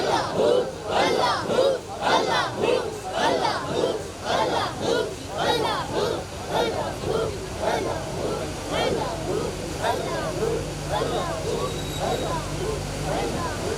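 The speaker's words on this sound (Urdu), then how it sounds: "تمامی احباب باواز بلند اپنے دل کی طرف توجہ کرتے ہوئے گنبد خضرا کا تصور کرتے ہوئے باواز بلند بولیں اللہ" A large crowd at a devotional dhikr gathering in Bahawalpur loudly chanting Allah in unison, a steady pulsing rhythm of massed voices repeating over and over, with a sustained drone underneath.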